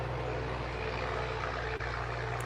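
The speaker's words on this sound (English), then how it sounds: "it's a very loud tractor" A loud tractor engine drones steadily and close by during field harvesting in Washington State, a constant heavy rumble with a brief dropout near the end.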